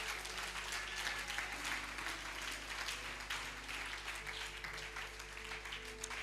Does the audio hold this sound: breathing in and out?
no